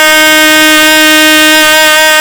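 One long, unwavering F note is sounded on a trumpet with the first valve pressed: a bright, full brass tone held at an even loudness throughout, with no other sound present.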